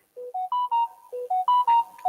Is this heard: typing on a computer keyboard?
no